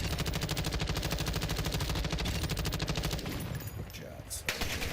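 Dense bursts of rapid automatic gunfire from the Black Ops 6 video game, loud and continuous, with rattling shots tapering into a scattered firefight.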